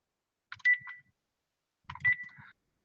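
Telephone beeps during a live stream: two short electronic beep bursts about a second and a half apart, each a brief bright tone with a little clutter around it, moderately quiet against silence.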